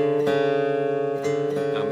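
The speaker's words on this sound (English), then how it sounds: "Now if this is, my D string is flat, it's going to sound like this." A guitar D string tuned flat and out of tune, plucked a few times against a neighbouring string so the mismatched pitches ring together with audible beating.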